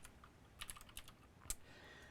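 Keys clatter on a Macintosh workstation computer keyboard in a few quick irregular bursts of clicks, moderately close and otherwise quiet, with a sharper tap near the end.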